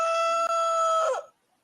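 Chicken sound effect, a single loud drawn-out rooster crow holding steady, then bending down and cutting off, heard alone.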